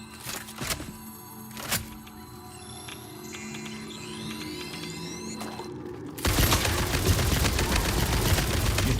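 Gunfire in the video game Satisfactory, aimed at hostile creatures such as a cave spider. A few isolated sharp shots come first, then a loud, dense burst of sustained rapid fire takes over for the last few seconds.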